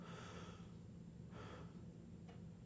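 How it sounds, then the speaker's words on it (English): Breathing in through the nose and mouth during a breath exercise: a few airy inhalations, the longest first, then a shorter one and a brief final gasp, quiet and close over a low background hum. "and inhale"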